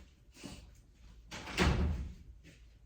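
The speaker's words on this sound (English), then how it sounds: "Honey, you got to ease that door closed because it's taped." A taped-up door pulled shut with a soft thud, preceded by a brief rustle, close and moderately loud in a quiet room.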